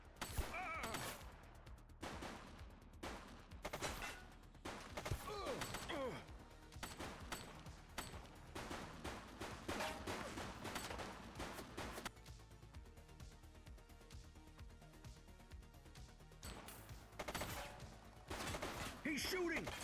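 Gunfire rings out in a police video game cutscene, with rapid volleys and bursts of shots repeating across the scene. Tense voices speak between and over the firing, and the shooting is loud and sustained, with a brief lull near the middle.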